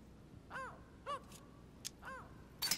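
A mynah bird in The Council game giving several short harsh caws at irregular intervals, fairly close against a quiet background, with a few brief clicks and a burst of noise at the end.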